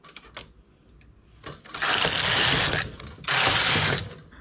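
A knitting machine carriage slides across the needle bed in two broad rasping, whirring passes, each about a second long, separated by a brief pause, with light mechanical clicks before the first pass; no talking.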